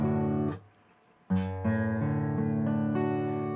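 An acoustic guitar chord with the A string left unmuted rings out murky and dissonant, struck twice with a brief gap, then a third strum sustains with overlapping tones.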